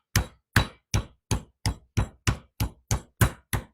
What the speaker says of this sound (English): let's get our pork chops pounded out